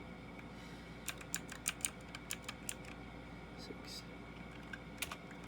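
Someone types on a computer keyboard with a scattered run of light, quick key clicks. Quiet speech runs over a low background hum.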